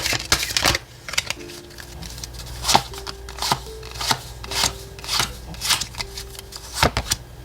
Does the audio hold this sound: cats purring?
no